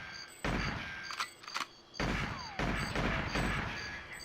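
Gunfire from the Nintendo 64 game GoldenEye 007, with bursts of rapid shots and heavy impacts in irregular clusters over steady background game music.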